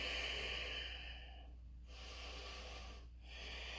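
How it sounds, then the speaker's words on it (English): A slow, steady exhale during yoga practice, broad airy breath noise that fades and swells across a few seconds with brief pauses, close and fairly loud, no talking. "breathe out"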